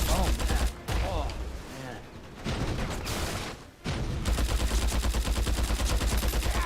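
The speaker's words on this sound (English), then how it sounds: "It's like if they had 20 dudes at the same time shooting rockets" Loud, sustained gunfire and rocket blasts in the Mercenaries 2: World in Flames war game, rapid machine-gun bursts and heavy explosions pounding almost continuously, close and dense, with brief lulls between volleys.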